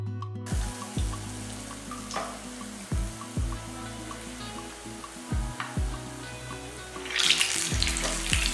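Small hand-rolled balls of sweet banana batter dropped one after another into hot oil, each landing with a sharp splash-thump and then a fizzing sizzle, the frying hiss swelling louder toward the end.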